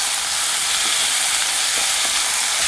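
Sliced ivy gourd pieces fry in a pan with a loud, continuous sizzling hiss and faint stirring scrapes, close up with no voices.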